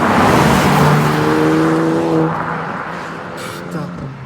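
A Porsche Panamera with 462 horsepower, engine roaring loud and close with a steady harmonic drone that fades slightly as it moves off, with a voice talking over it.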